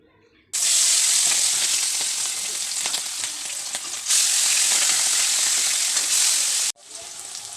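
Potatoes fry loudly in oil released by hilsa fish, a dense, close, steady sizzle that breaks off briefly and then resumes, with no one speaking over it.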